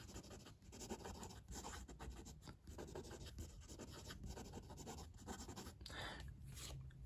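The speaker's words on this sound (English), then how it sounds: "Fast writing is always fine with Lamy." A Lamy Nexx M fountain pen writes fast across paper, making a continuous quiet scratching and rubbing with brief pauses between strokes.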